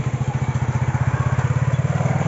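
A motorcycle ridden by a boy learning to handle it putters close by in a Pakistani village, its engine thumping in a quick, even rhythm at low revs with no talk over it.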